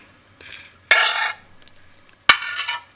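Cooled fried carrots being stirred into a mixed pickle, with a spoon scraping and clattering against a pot or bowl in a few bursts, close and distinct, no talking.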